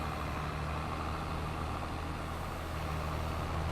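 Steady tractor engine drone from Farming Simulator 22 while driving a tractor with a seeder on Calmsden Farm, a continuous low hum with constant loudness and no pauses.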